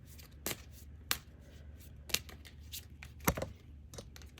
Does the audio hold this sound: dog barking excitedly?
no